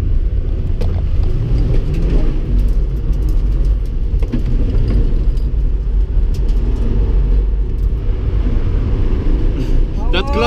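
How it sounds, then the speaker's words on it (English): A car's engine roars loud and steady through a clutch-kick drift at a Lelystad track day, heard from inside the car with a constant road and wind rush. "That clutch kick helped."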